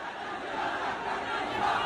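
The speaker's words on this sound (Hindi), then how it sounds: "सिर तन से जुदा, लगातार इस तरीके की नारेबाजी ये उकसाने वाली भीड़ कर रही है।" An agitated mob presses around a house in Hyderabad, Pakistan, voices massed in a dense, continuous roar of shouting and chanting, loud and unbroken across the short moment.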